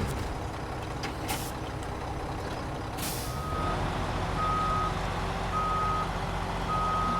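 A truck in a driving video game lets off a loud hiss of air brakes, then reversing beeps sound in an even repeating rhythm over a low engine rumble.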